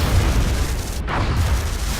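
A UFO is shot down in the video game XCOM Enemy Within, a deep booming explosion rumbling over a low continuous roar, with a brief burst near the middle that quickly fades back into the rumble.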